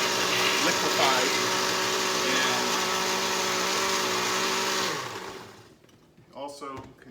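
Blender whirring loudly as it liquefies a chili paste for barbacoa, a steady high motor drone that winds down and stops, followed by a voice speaking.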